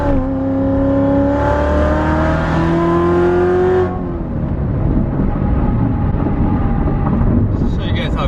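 A Corvette Z06 pulls hard in third gear, its engine note rising loud and close for about four seconds before the throttle lifts into a steady road and wind roar.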